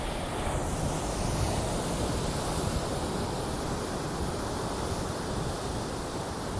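Ocean surf makes a steady, broad wash of rushing noise with no distinct wave breaks, heavy low rumble and wind-like hiss throughout, and no voices.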